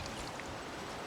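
Sauvignon Blanc from Napa Valley pouring into a wine glass, a short steady close trickling wash of liquid with no speech.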